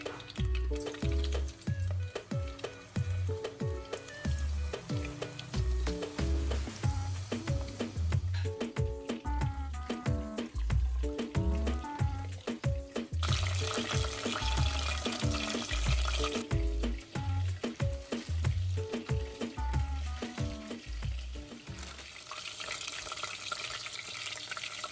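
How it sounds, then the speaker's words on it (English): Chicken fries in oil over a medium-low flame, a steady sizzle running under loud rhythmic background music with no break. "Fry for 4 or 5 minutes or until the color changes to a light golden shade."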